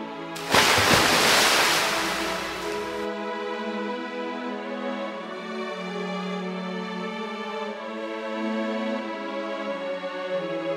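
A cartoon surge of sea waves as the Red Sea parts: a loud roaring wash of water bursts in at once and holds for a few seconds, then gives way to a sustained, calm tonal backdrop.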